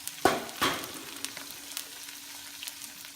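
Fried tofu caramelizing in a pan with spicy teriyaki glaze, two sharp sizzling bursts near the start fading into a soft crackle with scattered small pops and a faint steady hum.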